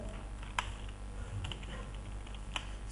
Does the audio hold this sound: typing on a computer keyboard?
yes